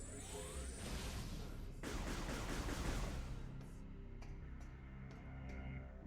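Gunfire in a video game as boxes are shot, a dense burst of rapid shots and crashing impacts, followed by a few quieter, separate pops over a steady background hum.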